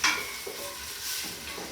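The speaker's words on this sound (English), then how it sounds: "Now we brown the potatoes a little." Potatoes sizzle and fry in a pot, a steady soft crackle broken by a few scraping stirs and light clinks of a utensil, close and moderately quiet.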